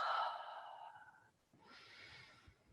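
A person exhales slowly and audibly during qigong healing-sound practice, two soft breathy sighs in quiet surroundings, the first airier and fading, the second lower and steadier.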